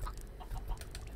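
Minecraft ducks give a steady run of short clucking, quacking calls at close range, repeating irregularly with no voices over them.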